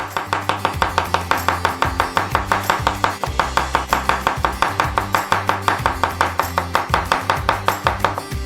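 A knife chops crushed garlic cloves on a cutting board in steady, rapid strokes, the clear rhythmic knocks running throughout over a droning musical bed, with no talking.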